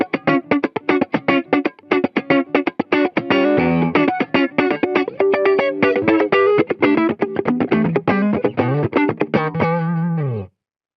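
An electric guitar on its neck pickup plays through a Jackson Audio Optimist mid boost pedal: a close, driven run of rapid picked notes and chords with a slightly distorted, chorused tone, ending on a sustained bent note.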